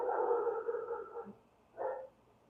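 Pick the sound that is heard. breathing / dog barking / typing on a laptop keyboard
dog barking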